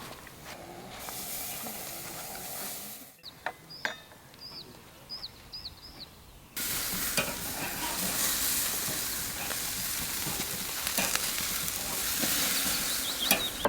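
Beef burgers sizzling on a barbecue grill, with a steady hiss that quiets briefly, a few light clinks of utensils, then a louder, fuller sizzle that carries on to the end.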